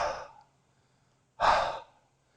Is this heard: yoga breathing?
yes